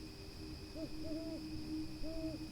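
An owl hoots softly several times, low and distant, over a steady background hum.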